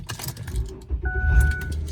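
Keys jingle close by, then a car engine turns over and rumbles to life, a bright metallic rattle giving way to a low engine start within about two seconds.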